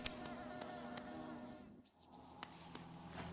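Insect-like bee buzzing from enemies in the video game Hollow Knight, a continuous droning hum with faint ticking game sounds, dipping briefly midway, moderately close with no speech.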